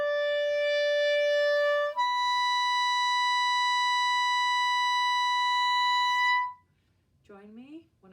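A clarinet playing in the altissimo register: a held high tone shifts to a pure, sustained high C sharp lasting several seconds, then stops, followed by a brief voice.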